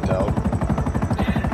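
Helicopter rotors in Grand Theft Auto chop in a fast, steady thumping beat, loud and close, with the engine drone running continuously underneath and no voices.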